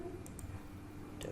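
A computer mouse double-clicks twice, each a pair of faint, crisp taps close together, separated by about a second of quiet room tone.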